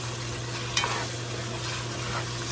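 Kidney is stirred and tossed in a pot, frying over a steady sizzle with a brief scrape of the spoon partway through, close and continuous, with no talking.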